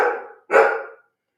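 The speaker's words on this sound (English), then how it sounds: "Hey, dogs, how about if we don't bark?" Two loud, close dog barks in quick succession, each harsh and a little drawn out, with a short gap between them and nothing after.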